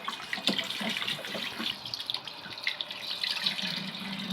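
Tap water running steadily into a sink while raw chicken pieces are washed one by one, with splashes and soft wet handling noises, close and moderately quiet.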